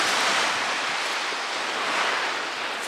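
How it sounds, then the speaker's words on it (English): Waves wash over shingle at the eastern end of Seaford Beach near the river mouth: a steady broad roar of surf, with some wind buffeting the microphone. "we're at the eastern end of Seaford Beach"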